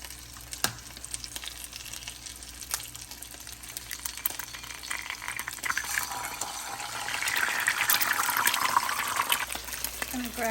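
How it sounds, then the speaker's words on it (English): An egg fries in hot avocado oil in a pan, giving a soft, continuous sizzle and crackle that swells louder toward the end, with a few light clicks of utensils. "We're gonna go ahead and fry an egg."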